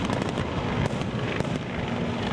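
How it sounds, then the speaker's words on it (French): Dense, continuous crackling and popping bursts of Fourth of July fireworks fill the whole stretch loudly, with sharper bangs standing out here and there before a sudden cutoff at the end. "les Américains ont fait éclater leur feu d'artifice"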